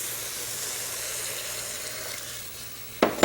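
Milk pours into a pan of carrots cooking in butter and cardamom, a soft steady sizzle with a splashing pour near the end.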